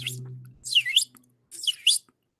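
Bird chirping in short bright bursts, three distinct calls spaced apart at moderate level, with a low steady hum underneath at the start.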